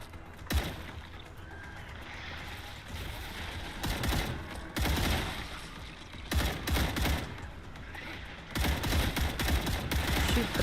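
Rapid bursts of automatic gunfire from the StarRupture video game crack out in several loud volleys, separated by brief lulls with a steady background rumble, no speech.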